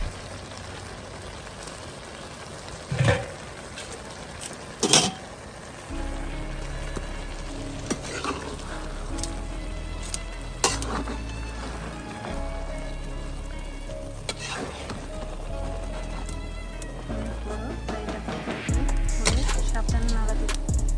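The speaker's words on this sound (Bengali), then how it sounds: "এখন একটু নাড়া দিয়ে দিব আমরা।" Bhuna khichuri cooking in a pot at a village picnic is stirred, with a steady bubbling sizzle, scraping stir sounds and a few sharp knocks against the pot, close by.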